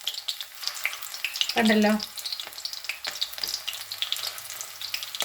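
Prawns frying for prawn 65 sizzle in hot oil with a steady, bright crackle all the way through, broken by a short louder hiss partway in, while a person says a word.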